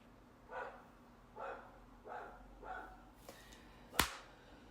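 A dog barks four times at a steady pace, fairly faint and a little distant, and then a sharp loud crack follows.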